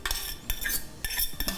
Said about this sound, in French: je vais mettre tout comme versé dedans